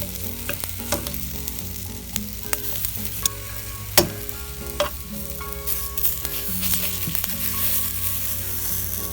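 Vegetables fry and char in a hot pan with a dense, continuous sizzle, punctuated by sharp crackles and pops throughout, close and loud with no talking.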